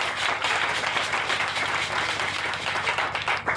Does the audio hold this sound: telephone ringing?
no